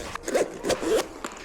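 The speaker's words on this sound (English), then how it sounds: "But I do like the way this zips up." A zipper on a camera carry bag is pulled in three or four quick, close rasping strokes, each pull short and scratchy, with brief pauses between them and no talking.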